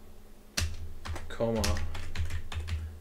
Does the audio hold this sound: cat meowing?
no